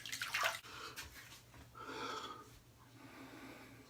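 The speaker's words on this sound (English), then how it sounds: "We're gonna get rinsed off" Splashing water as a freshly scrubbed face is rinsed off before shaving, with a few close splashes and trickles, a snort-like breath and dripping.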